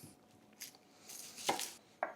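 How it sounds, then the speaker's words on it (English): A red onion being chopped with a knife on a cutting board, a few quiet, separate knife strikes spaced irregularly and close. "1 red onion, let's get it chopped up."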